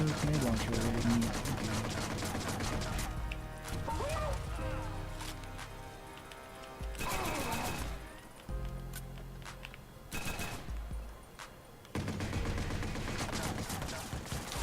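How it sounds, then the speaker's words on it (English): Repeated grenade launcher explosions and bursts of gunfire strike a tough bodyguard in the Watch_Dogs video game, loud game combat sounds in clustered bursts mixed with music and effects, with people talking over them. "He's taking like multiple grenade launchers to the face."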